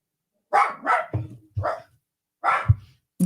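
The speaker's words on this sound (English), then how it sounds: "Oh, they got dogs over there." Dogs bark in a quick run of sharp, close barks, some doubled, with short silent gaps between bursts.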